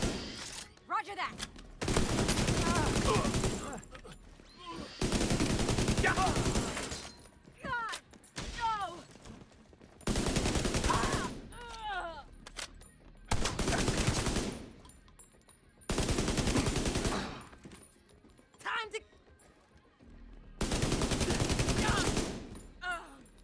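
Video game shooting in story mode, with repeated bursts of loud automatic gunfire lasting a few seconds each and separated by short pauses.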